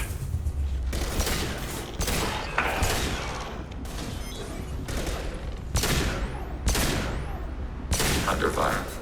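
Dense, continuous gunfire in a Mass Effect 2 battle, repeated bursts of shots and booms layered over a loud background mix, with a voice speaking briefly amid the fighting.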